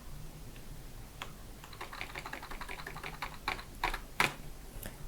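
Computer keyboard typing while lines of text are deleted: scattered key clicks that build into a busier run of taps, with a few sharper louder strokes near the end, close and alone.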